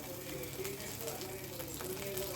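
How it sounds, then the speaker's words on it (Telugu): Butter sizzles in a heated pan on a stove while cooking noodles, a faint, steady crackling fry with soft scraping and stirring under it, no voices. "ఇది కొంచెం హీట్ అయిన తర్వాత వెన్న వేసేద్దాం, బటర్ వేసేద్దాం"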